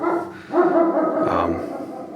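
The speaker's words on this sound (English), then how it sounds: "I have no idea what my dog's barking at upstairs" A dog barks upstairs in a house, giving a few muffled, slightly distant woofs in quick succession.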